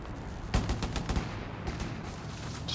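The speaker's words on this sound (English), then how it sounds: "those 50 cals do so much damage" Bursts of .50 cal machine gun fire in Company of Heroes 3, with a rapid rattling string of shots followed by a shorter burst, fairly faint under a low background.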